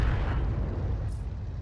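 A distant artillery shell lands in a tank battle game, the T92 HMC's shot coming down as a low, sustained rumbling boom that stays broad and steady for under two seconds, with no voices over it.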